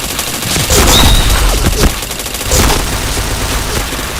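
Rapid gunfire bursts from the shooter game Point Blank, with several loud, sharp volleys and booms clustered together in quick succession, close and prominent with no voices over them.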